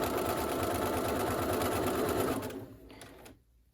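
A sewing machine stitches a fabric medical mask with a fast, steady mechanical whir that runs close and loud, then slows and stops near the end, leaving a few faint clicks.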